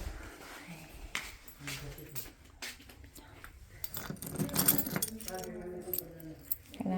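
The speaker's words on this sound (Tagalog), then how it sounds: "Ilalagay ko lang yung susi namin." Keys jangle and clink in bursts as they are put away, mixed with rustling, handling noise and a voice speaking at moments.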